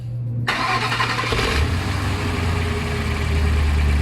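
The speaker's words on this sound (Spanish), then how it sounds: "Voy a poner en marcha el motor" A Ford Mustang engine with a fault cranks and fires up, the starter whir giving way to a loud, steady idle close by, with no talk over it.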